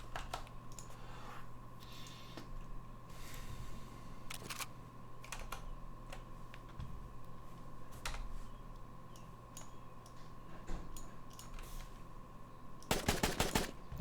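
Rapid bursts of advanced assault rifle fire in a video game, quiet and clicky, scattered through steady background hum and ending in a dense, fast-rattling burst near the close.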